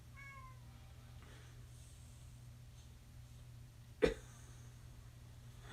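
Crypto the cat makes a few quiet vocal sounds while being cuddled, with a short sharper meow-like burst near the end over a steady low hum; no one speaks.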